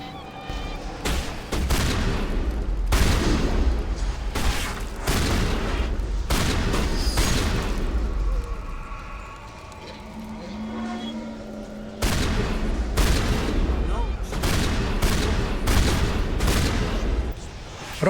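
Gunfire in the Mass Effect game, including shotgun blasts, bursts out in heavy, booming volleys with short pauses between clusters of shots, loud and close, with a quieter stretch in the middle.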